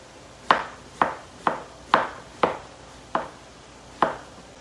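A knife chops through a big zucchini on a board, seven sharp, evenly spaced thunks about half a second apart, close and distinct with a brief ringing decay after each, no talk.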